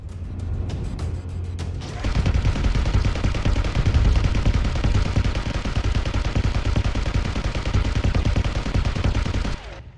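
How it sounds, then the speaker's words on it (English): Gunfire shooting at enemies in Deadzone Rogue, a sustained loud burst of rapid automatic weapon fire running for several seconds after a quieter opening. "shooting these fuckers is like impossible."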